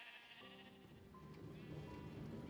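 Minecraft sheep bleating among rows of colour-named sheep, several wavering bleats overlapping near and loud over a faint game background, with no talk.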